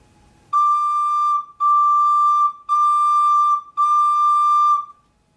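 A recorder plays four sustained D notes with a soft, steady tone, evenly spaced with short gaps between them and no talking.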